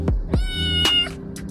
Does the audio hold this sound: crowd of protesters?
no